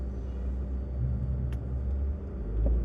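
Low rumbling city street traffic on a San Francisco hill, with steady engine drone of cars and a bus, a brief hiss near the middle and a heavier vehicle rumble swelling at the end.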